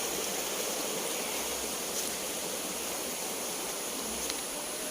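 A flowing stream in a rural province runs steadily and close by, a dense, even rush of water with no voices over it for the whole stretch.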